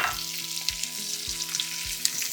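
Chopped onions fry in hot oil in a kadai, a steady close sizzle with soft stirring clinks and scrapes of a spoon against the pan recurring every half second or so, with no voices.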